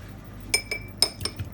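A whisk clinks against a bowl while beating champagne, salt, pepper and oyster liquid together, a few bright metallic taps in an uneven rhythm, close and clear, with no speech.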